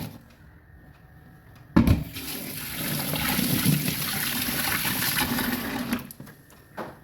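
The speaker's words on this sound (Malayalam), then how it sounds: "നമ്മുടെ ചെമ്മീനൊക്കെ ഇവിടെ വൃത്തിയാക്കി എടുത്തിട്ടുണ്ട്. നമുക്കിതൊന്ന് കഴുകി വൃത്തിയാക്കണം." Cleaned prawns are rinsed under running water, which gushes in suddenly, pours steadily for about four seconds, then cuts off to a quiet room with a faint clunk at the end.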